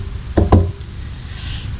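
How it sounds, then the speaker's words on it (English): Two quick, solid knocks on a wooden door, close and distinct, followed by quiet room tone. "So he knocked on the door."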